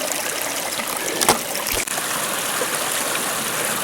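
A mountain stream rushes steadily, a constant broad hiss of flowing water close by, with a couple of brief knocks partway through.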